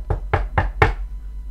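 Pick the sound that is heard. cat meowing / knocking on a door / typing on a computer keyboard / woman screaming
knocking on a door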